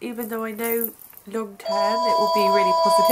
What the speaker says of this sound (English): Sorry, that's my phone going.